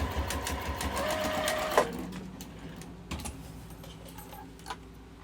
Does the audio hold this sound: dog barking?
no